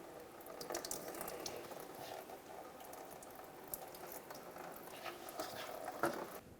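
Coolant drains from a Dodge Journey into a collection bucket, a continuous splashing trickle of liquid with occasional louder spatters, close and moderately quiet, no talk.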